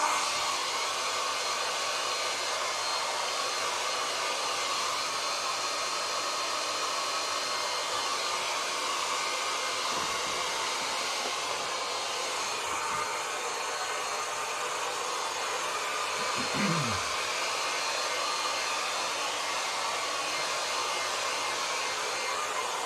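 A hair dryer blows steadily on a painting to dry the paint, a constant loud whooshing roar that runs unbroken throughout with no talking.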